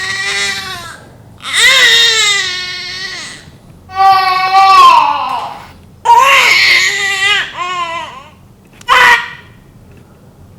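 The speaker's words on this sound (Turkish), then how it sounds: "Bakalım nasıl kıvranıyor, nasıl ağlıyor, o sesi duyalım." An infant with gas pains in the lower belly cries loudly and close by in repeated wailing bouts, each rising and breaking into sobs, separated by brief pauses.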